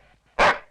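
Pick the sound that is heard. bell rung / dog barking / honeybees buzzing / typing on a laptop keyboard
dog barking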